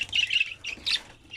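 A budgerigar gives sharp, shrill squawks while bathing in water, two or three close harsh calls in quick succession, loud and near.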